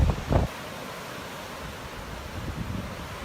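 Broadband wind and surf wash steadily along the Newfoundland coast near rock sea arches, with a couple of brief louder buffets at the start and soft swells of surf rising again near the end.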